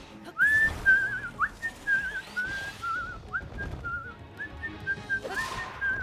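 A person whistles a melody up close, clear wavering notes in short phrases separated by brief pauses and breaths, with faint background rustle underneath.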